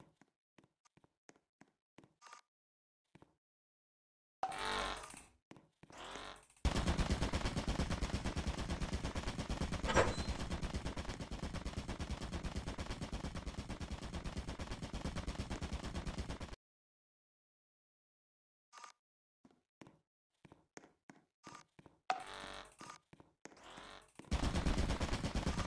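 Automatic turret gunfire in a Roblox horror game, a dense, loud continuous burst lasting about ten seconds, set between scattered sharp shots and footstep-like taps, with no talk.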